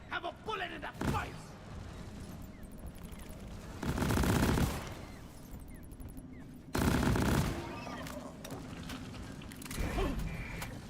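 Gunfire in the co-op mining shooter Deep Rock Galactic during a solo deep dive: repeated loud bursts of automatic fire punch through a busy background of mechanical clanks and ambient noise, with a voice talking at times.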